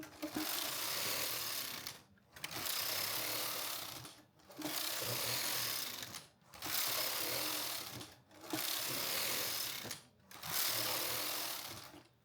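A knitting machine carriage knits the final rows of a sweater, sweeping across the bed in six steady passes of about two seconds each, a whirring, clattering rush broken by short pauses between rows.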